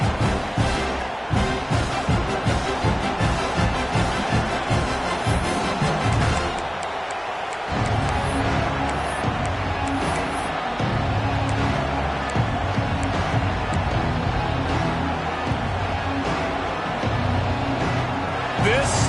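A football stadium crowd roars steadily throughout, a dense, loud wash of cheering with a brief dip partway through, under continuous play-by-play commentary.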